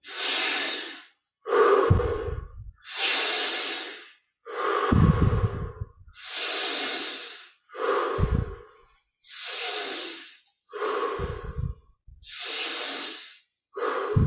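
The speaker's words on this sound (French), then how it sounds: "10 respirations profondes" Slow, deep breathing during guided meditation, each long airy inhale and exhale clearly audible and close, repeating steadily with short pauses between breaths, some nasal and snorting, with no speech over it.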